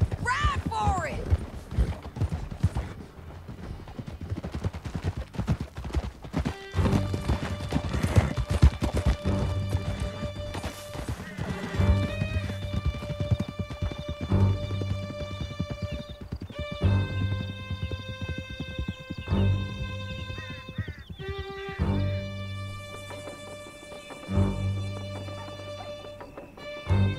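Horses gallop in a Western video game, Red Dead Redemption, a steady clip-clop of hooves under an orchestral score, with voices speaking over the ride at times.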